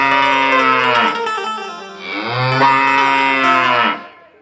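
Cows and calves on a farm give two long, loud, drawn-out moos in close succession, each rising and falling in pitch, with no other sounds behind them.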